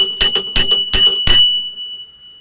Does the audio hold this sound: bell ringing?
yes